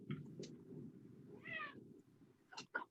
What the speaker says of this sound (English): Someone's cat said something.